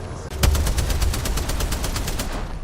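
Rapid automatic gunfire in Apex Legends, a dense sustained burst of evenly spaced shots rattling close and loud for the whole stretch, with no talk over it.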